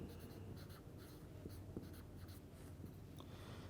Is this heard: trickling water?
no